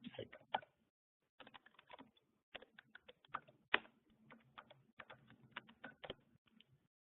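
Fingers type on a computer keyboard in quick, irregular bursts of close clicks, broken by a short pause near the start, with no one speaking.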